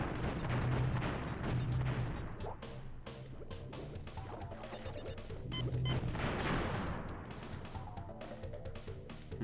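A switch box shot and smashed in Crash Bandicoot: Warped: loud, dense crashing and blasting game effects over continuous game music, with heavy impacts surging and fading throughout.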